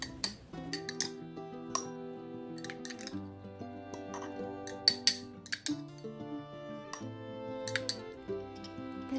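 Salted long beans with diced carrot are packed by hand into a glass jar, giving scattered sharp clinks and knocks of glass and utensil against each other, irregular and fairly close, with no voices.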